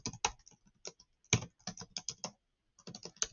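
Typing on a computer keyboard, a run of crisp key clicks in uneven bursts with a brief pause before a final cluster, close and alone.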